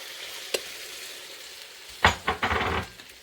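Beef stock added to a pan of softened, translucent onions for a homemade meat and potato pie hisses and sizzles in loud bursts after a faint click, then settles into steady bubbling.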